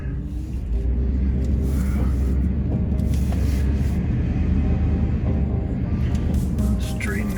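A vehicle backing up while towing a trailer gives a steady low engine rumble throughout, loud and close, with a few brief higher noises toward the end.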